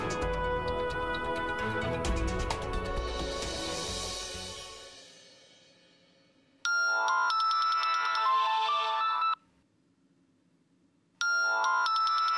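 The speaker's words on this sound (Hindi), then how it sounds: "राज, इतनी रात को क्यों फोन किया?" A mobile phone ringtone sounds late at night during a phone call: two loud, bright, chiming electronic bursts separated by a pause, following a fading musical background.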